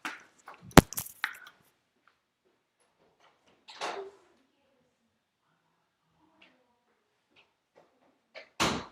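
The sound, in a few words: front door being opened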